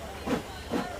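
A train pulls away in a radio drama, heard as two brief swells of rolling, hissing rail noise about half a second apart over a steady low background.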